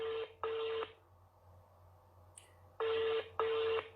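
A telephone call tone repeats on an unanswered call, with two short steady beeps, a pause, then two more, fairly faint and alone.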